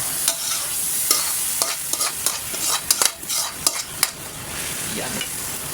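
Mung beans are stirred in a hot pan, sautéed with shrimp, giving a steady sizzle broken by irregular scraping and clinking strokes of a utensil against the pan, close and clear.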